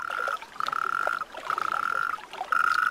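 Toads calling during winter mating season in wild Iberia: a chorus of sustained buzzing trills repeating in bursts of about half a second to a second, fairly close and loud, over a murmur of background calls.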